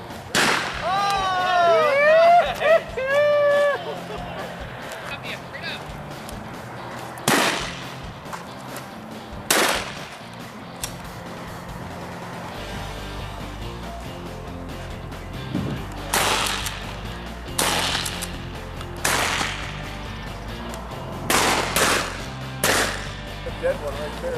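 Semi-automatic shotgun fired at doves during a hunt, several loud sharp blasts spread across the stretch, some in quick pairs, with people talking and calling out in between.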